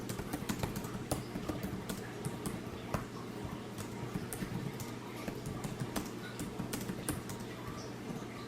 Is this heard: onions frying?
no